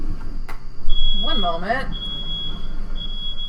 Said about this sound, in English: My fire alarm is going off.